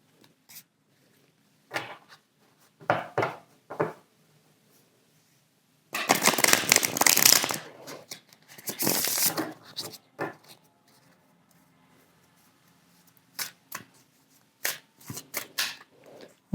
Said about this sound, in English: Let me first reshuffle my deck.